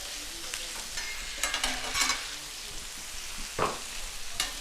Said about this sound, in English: Get yourself some nice salt and smash these